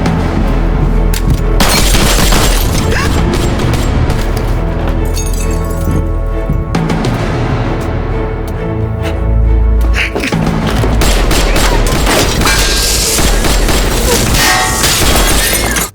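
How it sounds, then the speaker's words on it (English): Gunfire in a film scene as henchmen fire on SWAT breaching an apartment: loud, dense bursts of shots and booms with glass clinking and shattering, continuous and close, with no clear voices. "When SWAT attempted to breach the apartment, Wei Hong's henchmen opened fire"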